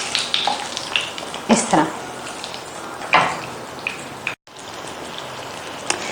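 Taash kabab sizzles in a hot frying pan as the pieces are flipped, a close, steady crackling hiss with brief louder bursts from the turning, while a voice speaks briefly over it.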